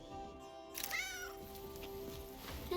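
A cat in a video game lets out a single drawn-out meow near the start, fairly clear over a quiet game background hum.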